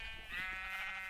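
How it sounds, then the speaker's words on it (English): A sheep in Minecraft gives a single short, soft bleat, quiet and close, with no talk over it. "basically gathering a lot of sheep,"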